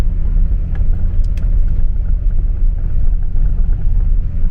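A Mahindra Thar climbs a high mountain pass at full load, its engine a loud, continuous low rumble close by with steady road noise and no voices.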